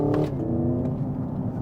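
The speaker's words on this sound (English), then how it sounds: "You hear that blip in the throttle, like you're actually blipping the throttle. There's even some pops" A 2024 Hyundai IONIQ 5 N electric car gives a simulated throttle blip with pops on a gear shift, a loud, steady droning engine-like tone heard from inside the cabin.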